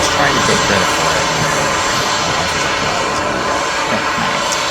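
RC thrust-vectoring jet plane flying at an RC aviation event, a loud steady turbine roar and whine held without a break, close and dominating.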